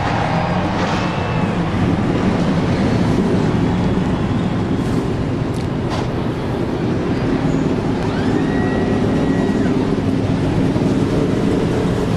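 Several stock car engines start and rumble together in NASCAR Racing 2003 at the Daytona 500. A dense, steady roar continues throughout, with occasional higher engine whines rising above it.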